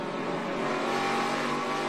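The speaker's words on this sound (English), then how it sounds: "You can hear him get on the throttle" A NASCAR stock car at the 2013 Camping World RV Sales 301 holds a steady, loud engine roar as the driver eases onto the throttle, a continuous broadband drone with no voices over it.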